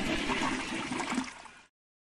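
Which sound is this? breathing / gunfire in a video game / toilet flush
toilet flush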